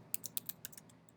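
Quick, light keystrokes tap on a computer keyboard, about eight soft clicks in a short burst, close and quiet.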